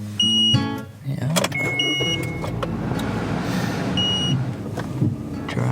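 A car driving in Israel, heard from inside with a steady engine and road rumble, a few short electronic beeps and tonal chimes, and clunks from the cabin, with no talking.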